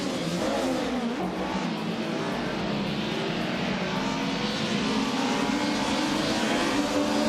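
Vintage 1994 Mercedes C180 DTM race cars launch off the grid in a racing video game, a dense, steady roar of several engines revving hard together, loud and continuous throughout.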